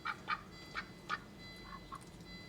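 Duck-like quacking in a series of short, nasal calls, four clearer ones followed by two fainter ones, heard alone at a modest level.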